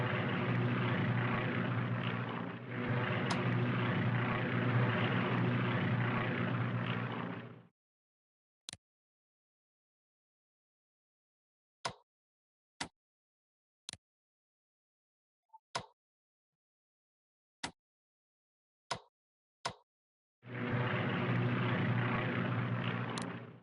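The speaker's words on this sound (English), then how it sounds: "So let's move some planes in" Propeller aircraft in a strategy game drone loudly in two sustained bursts at the start and end, separated by near silence broken only by scattered sharp interface clicks.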